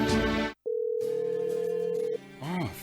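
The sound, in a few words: phone dial tone while calling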